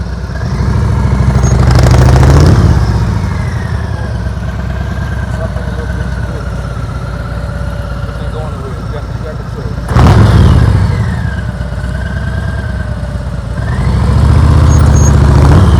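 Motorcycle engine during slow-speed riding practice, a steady low idle with throttle blips that swell loudly near the start, middle and end, with people talking over it.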